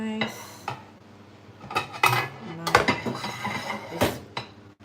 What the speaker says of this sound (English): So I have to transfer that in a bigger pot.